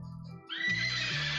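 A horse whinnies in a bright, strained call that rises and holds steady for about a second. It follows a brief low rumble and stands out loud and near.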